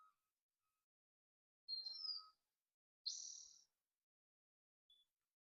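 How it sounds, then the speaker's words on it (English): A bald eagle gives a few faint, thin, high chirping calls in an otherwise quiet outdoor setting, three short separated bursts with silence between them. "There's a bald eagle up there."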